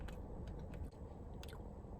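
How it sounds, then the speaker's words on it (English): Crunchy chocolate pieces from a Chocolate Tower Truffle Cake being chewed close up, a steady run of soft crunching bites with no talking. "I'm chewing on something crunchy"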